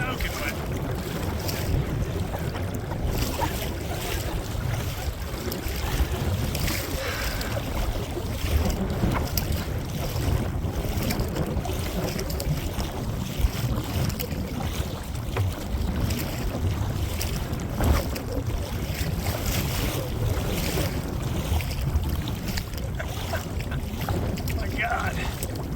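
Strong, steady wind buffets a boat on a windy day on LWR, with rushing waves and water splashing around the hull and constant microphone wind noise, loud and unbroken throughout.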